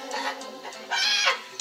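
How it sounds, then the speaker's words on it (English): A chicken clucking up close, a few short throaty squawks in quick succession, loud and alone. "Chicken"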